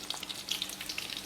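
Fish frying in hot oil for chili fish spaghetti gives a soft, steady sizzle with small crackles and pops scattered throughout, fairly quiet and with no voices.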